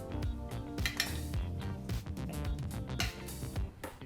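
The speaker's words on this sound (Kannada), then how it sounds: "ಈಗ ಹುರಿದು ಬಿಸಿ ಇರತಕ್ಕಂಥ ಈ ಪದಾರ್ಥನ ಈಗೊಂದು ಮಿಕ್ಸಿ ಜಾರ್ಗೆ ಹಾಕೋಬೇಕಾಗತ್ತೆ." Hot fried ingredients for a gobi masala gravy are tipped into a mixer jar, giving a busy string of close metallic clinks and scrapes of spoon against steel, with no voices.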